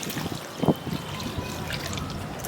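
Water is poured for a cool summer bath, a close trickling and splashing pour over a low background hum with no one speaking.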